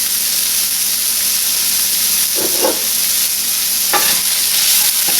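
Spices fry in a pan on the stove with a loud, steady sizzle and hiss throughout, broken by a few brief stirring scrapes.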